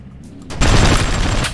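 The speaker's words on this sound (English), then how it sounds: "I'm shooting the parts off" Sustained burst of loud gunfire in a Hard Truck Apocalypse boss fight, a dense fusillade erupting suddenly and continuing without pause after a quieter lead-in.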